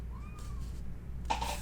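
A pet cat gives a brief rising meow, then a second louder, higher meow follows close by, with no talking.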